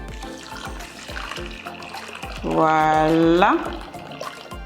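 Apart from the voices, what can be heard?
hot salted water poured over couscous in a bowl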